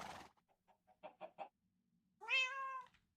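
A pet cat gives one drawn-out, clear meow near the end. Before it come several soft, brief chirps and a short burst of noise, all fairly quiet and close.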